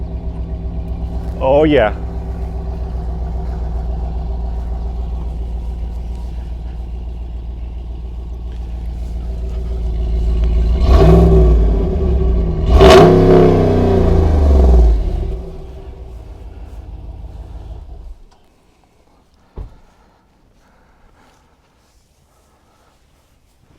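Close to the exhaust pipe of a high-end Jeep, the engine idles with a deep rumble, then revs hard in two loud bursts before settling and shutting off, leaving near silence; a voice speaks briefly early on.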